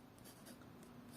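Graphite pencil sketching lightly on paper, a soft, steady scratching of short strokes, faint and close.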